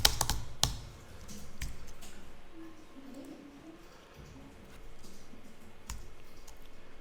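A file name is typed on a computer keyboard in a few quick clusters of key clicks, close and fairly quiet, with sparse single taps between them and a low murmur of room noise.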